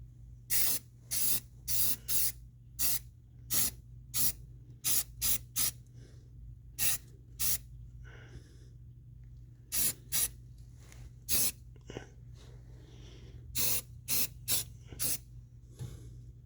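Aerosol spray primer applied to a vehicle transmission in short repeated bursts, close and loud, with pauses between the sprays over a steady low background hum.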